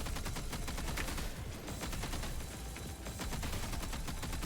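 Rapid automatic gunfire from the action video game Punishing: Gray Raven, a dense, continuous stream of shots with the weapon held on full auto, loud and steady throughout with no talking.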